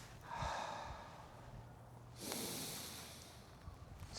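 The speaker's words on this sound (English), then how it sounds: "So we're gonna breathe in" A deep breath drawn in during a gentle beginner qigong flow, heard as soft airy breathing: a short breath early on, then a longer, louder inhale that fades slowly.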